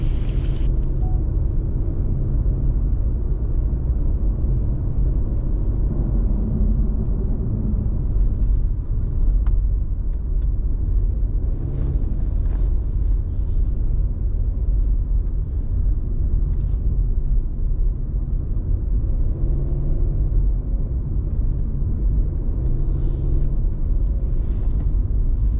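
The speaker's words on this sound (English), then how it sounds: "We continue driving on Rimrock Drive." Steady road noise from a car driving along Rimrock Drive in Colorado National Monument, a continuous low rumble of engine and tyres with no break, close and fairly loud throughout.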